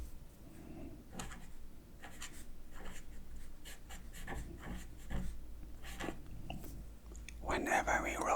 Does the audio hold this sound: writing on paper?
yes